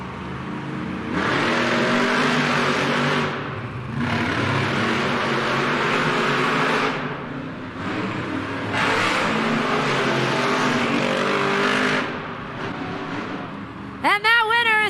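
Two monster trucks, Grave Digger and Classroom Crusher, race head-to-head at a Monster Jam stadium event in Milwaukee, engines roaring loud and sustained in surging waves with brief lulls between bursts, and a high whine closing it out.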